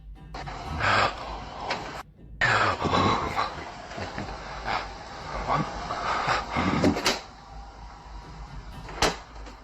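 A closet door slams shut in a dim room, one of several sharp knocks and thuds spread through a noisy, crackling background with a distant wail-like drone.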